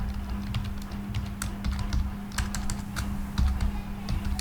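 Rapid, uneven keystrokes on a computer keyboard while a heading is typed, clicking steadily for several seconds over a low, constant electrical hum, close and clear with no voices.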